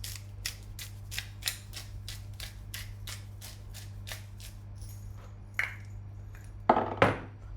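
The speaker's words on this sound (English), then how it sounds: "I'm just gonna get my little salt shaker and we're gonna salt it" A small salt shaker shaken over food, a quick regular series of crisp rattling shakes close by, followed by a pause and a couple of louder clattering knocks near the end.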